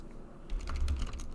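A few quick keystrokes sound on a computer keyboard, soft and close, in a short burst of clicks against a quiet room.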